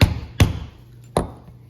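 A chisel is struck along a leather mechanic belt in three sharp, close taps, with the first two quick together and the third after a short pause.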